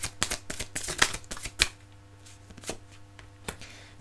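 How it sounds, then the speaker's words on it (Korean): Tarot cards are shuffled and drawn close up, giving crisp, irregular flicks and snaps with short pauses between them. No one speaks. "2020년 상반기 연애운 3번 카드를 골라주신 분들을 위한 어드바이스 카드 뽑아볼게요."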